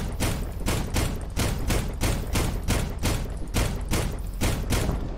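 Rapid, loud gunfire in the video game Arma 3, a steady run of sharp, evenly spaced reports close up, with no voices over the shots.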